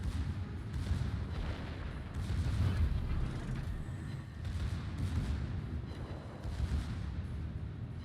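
Secondary battery guns on a battleship in World of Warships, the Tier 8 Atlantico, pound out repeated deep booms at an uneven rhythm over continuous low rumble.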